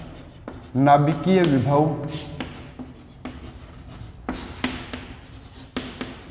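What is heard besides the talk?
writing on a board during a physics lecture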